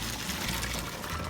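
Cold tap water pouring steadily over cooked nopales in a dish, a continuous close rushing splash with no pauses.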